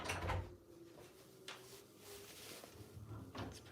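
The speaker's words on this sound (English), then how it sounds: "so I'm going to close the door" The door of a Beko DuoSpray dishwasher is closed, giving a couple of muffled thumps and latch clunks with quiet shuffling in between, close and soft.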